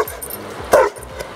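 A dog gives a single sharp bark mid-clip, close and loud, with faint whimpering yips and a low background hum around it.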